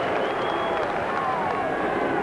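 A stadium crowd at a 1993 rugby league test match sends up a steady roar and cheer for the home Kiwis, a dense wash of noise from many people that holds level throughout.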